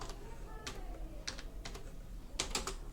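Keys on a computer keyboard tapped in short, irregular bursts of clicks, close and fairly quiet, while entering text in Microsoft Word, with no talking.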